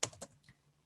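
Keyboard keys tapped a few times in quick succession while entering horizontal text in a design program during a computer class, soft and close, with no one speaking.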